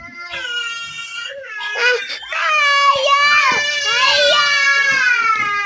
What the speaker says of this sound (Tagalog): Yun guys, umiiyak siya.